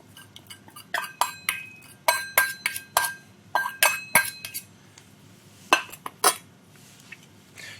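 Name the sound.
whisk mixing cream in a bowl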